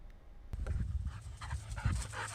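Maple, a decorated detection dog, panting steadily and close by in rhythmic breathy bursts, with a faint whimper mixed in and no talking.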